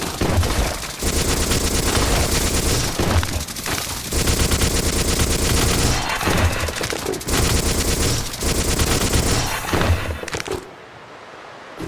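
Rapid gunfire from a weapon in a Doom-based shooter game blasts loud and nearly continuous, sustained bursts with brief gaps, then cuts off to a quieter tail near the end.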